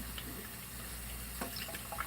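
A kitchen tap runs at low pressure, a faint, steady trickle of water with a few small splashes.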